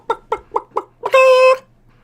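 Chickens cluck in four short, evenly spaced bursts, then give a longer drawn-out squawk. The sound is close and loud against near silence.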